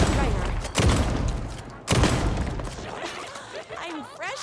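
Gunfire in Alan Wake 2 arrives as two sharp, loud shot bursts about a second apart, followed by a quieter scuffling and whooshing game-effect tail.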